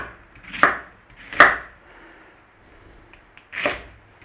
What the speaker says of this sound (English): So just nice and steady, chop through.